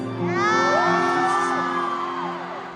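A large concert crowd cheers, loud high-pitched whoops and screams rising and falling together over a sustained tonal hum.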